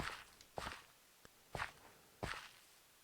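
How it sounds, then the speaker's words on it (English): Footsteps in Minecraft, hardcore vanilla mode, land in a loose, uneven rhythm of about five soft crunchy steps, fairly close and alone without talk. "am I hearing footsteps?"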